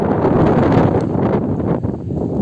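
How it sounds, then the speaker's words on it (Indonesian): Strong wind buffeting a microphone beside the Kertajati airport access toll road in Majalengka, a continuous loud rushing roar with low rumble, steady across the whole moment with no voices. "Emang hari-hari di sini anginnya sangat besar."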